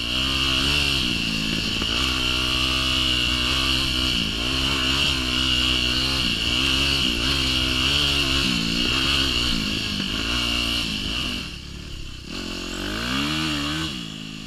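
A dirt bike rides sand trails near Muskallonge Lake State Park in Michigan's Upper Peninsula. Its engine drones loudly and steadily throughout, with repeated rises and dips in revs as the rider works the throttle, close to the microphone.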